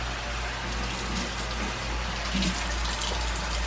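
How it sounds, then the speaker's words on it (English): Tap water runs steadily into a sink for handwashing, a constant close splashing hiss with small fluctuations and no talking. "Here, I gotta wash my hands now."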